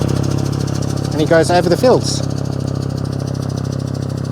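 A tractor engine drones steadily while driving a PTO-powered fertilizer spreader across a grass field, a mid-pitched running note heard close throughout as someone briefly speaks over it.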